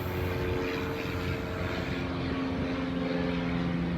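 Propeller airplane passing overhead, a steady droning engine roar with a low hum, loud and constant for a few seconds before thinning slightly, no voices.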